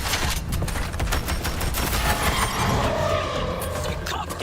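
Rapid bursts of gunfire rake an incubator in the video game Suicide Squad: Kill the Justice League, a dense, continuous volley close up that runs the whole stretch over a busy game-sound bed.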